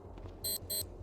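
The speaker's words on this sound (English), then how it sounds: "Alarm's going to go off, and stuff's going to come this way." Two loud, steady electronic alarm blasts from an RV in the video game Cataclysm DDA, each about a quarter second long with a short gap between them, sounding over a low background hum.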